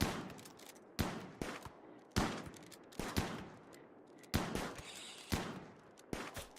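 Gunfire from a colony-management game rings out in bursts: sharp, loud shots with short echoing tails, some closely spaced and others spread out in an uneven volley.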